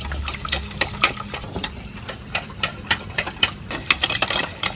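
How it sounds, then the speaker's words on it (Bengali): Batter beaten by hand in a bowl, making a steady stream of quick, sharp clicking taps in an irregular rhythm, close and fairly clear, with no talking. "এখন এগুলোকে ভালো করে এইভাবে ফেটিয়ে নেব"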